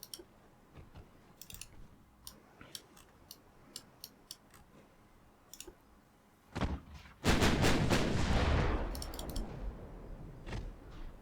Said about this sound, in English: Firing up the destroyers